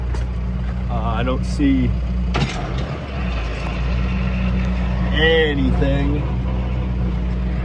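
A tractor engine idling steadily and loudly, a constant low rumble and hum with faint vibration throughout, while a person speaks briefly over it.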